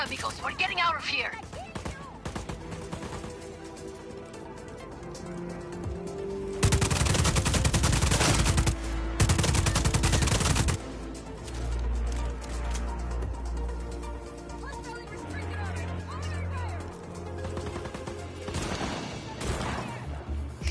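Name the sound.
shotgun gunfire in video game Just Cause 4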